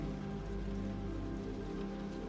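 Steady rain pattering and ticking on a surface, a continuous dense wash of small drops, even in loudness throughout with no voices.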